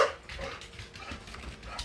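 A pet dog named Butters barks and yips indoors in a short, loud flurry of repeated calls that fills the whole moment without any talk over it.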